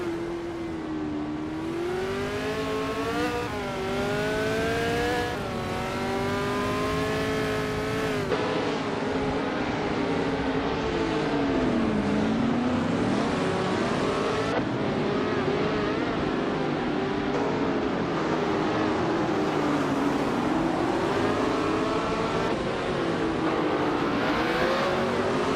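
A 1968 Surtees TS5 race car in a racing video game, its engine droning loudly and continuously with pitch rising and falling through gear changes and corners, no voices.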